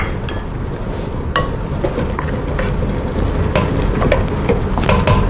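An egg is stirred into a seasoned mixture in a bowl: continuous scraping and churning with scattered sharp clinks of a utensil against the dish, moderately close, alone without voices.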